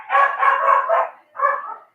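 A dog barks in a quick run of four or five close, loud barks, then pauses briefly before one more short burst, with no talking over it.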